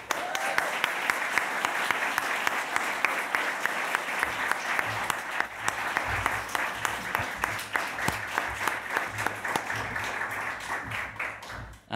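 Sustained audience applause welcoming writers onto a stage at a literary festival launch, dense steady clapping from a crowd that holds for the whole stretch, with a few faint voices under it.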